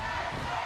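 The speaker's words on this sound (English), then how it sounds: "As this crowd now chants Pegasus into the buckle" Wrestling crowd at a SoCal Pro show in Vista, California chanting the name Pegasus: a brief roar of many voices that fills the room, blended and a little distant.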